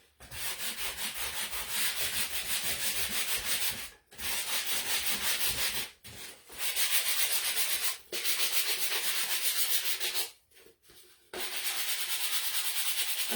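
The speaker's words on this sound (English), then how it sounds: "Just sand it a little bit to get those edges looking good." Sandpaper rubs in quick, steady strokes along the edges of a painted wooden shiplap wreath. The dense, scratchy rasping is close and constant and stops briefly a few times.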